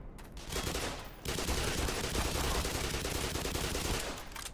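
Sustained automatic gunfire in Black Mesa, a dense loud rattle of rapid shots running almost without a break after a short opening burst, with no voices.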